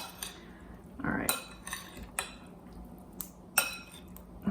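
Roasted beets tossed in a bowl, giving a handful of light clinks and scrapes of utensils against the bowl with soft wet shuffling in between, close and fairly quiet.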